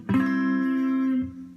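An acoustic guitar chord strummed once with the pinky added on the 8th fret of the high E string, ringing out clearly and sustaining alone for over a second before a soft second touch near the end.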